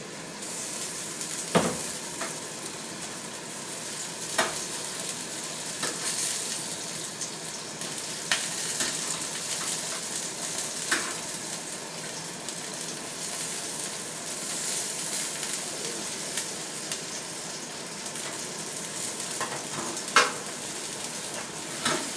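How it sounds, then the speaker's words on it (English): Pieces of chicken get turned inside a Cosori air fryer oven, with a continuous hissing roar broken by scattered clicks and scraping knocks at irregular intervals. "go ahead and flip the ones here inside the Cosori air fryer"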